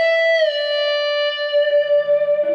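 An electric guitar note is bent a full tone at the 15th fret and then released. The sustained, bright, slightly effected tone slides in pitch and decays, with no talk over it.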